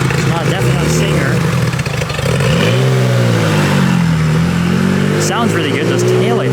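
A car engine revs on a city street during Car Week, loud and close, climbing and falling through several pitch sweeps. Voices are faintly audible beneath the engine.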